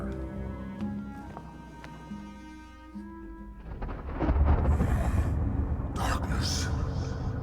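Thunder rolls in The Banner Saga 2 video game, a deep rumble swelling up behind a droning musical score, with crackling bursts toward the end.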